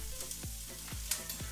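Onions, about half of one, frying in a single pan while making lasagne, a steady sizzle broken by several scraping stirs at an even pace, close and moderately loud with no talking.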